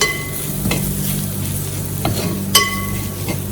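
Mutton masala and onions scraped and stirred in a frying pan, a steady sizzle with several distinct utensil scrapes against the metal, close and alone with no talking.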